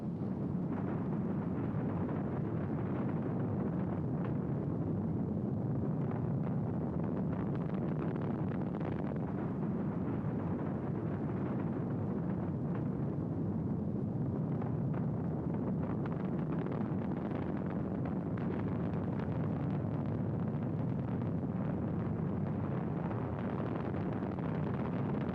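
Apollo 10 Saturn V rocket engines roaring at launch in 1969, a dense, continuous, rumbling thunder that stays loud and unbroken throughout, with a rough, wind-buffeted texture.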